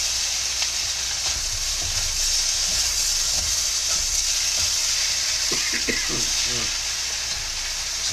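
Tofu scramble with spinach and mushrooms steams and sizzles steadily under a small lid in a pan, giving a constant frying hiss with a few faint clinks partway through.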